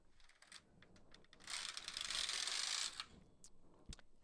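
Brother 350 knitting machine carriage knitting a row of Fair Isle, heard as a loud, close, dense mechanical rasping sweep lasting about a second and a half, with lighter clicks of needles before and after.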